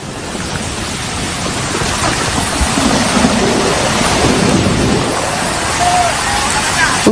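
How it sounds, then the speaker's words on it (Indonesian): Rushing floodwater from the overflowing Cijayanti river in Cijayanti village, Bogor, roars in a loud, continuous broadband torrent, with a voice speaking faintly over the churning flow. "Derasnya arus banjir membuat satu unit mobil hanyut sejauh belasan meter hingga mengalami kerusakan di bagian belakang"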